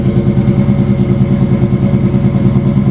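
A truck engine idles steadily close by, a deep rhythmic rumble with a light mechanical clatter, running continuously and loud with no voices over it.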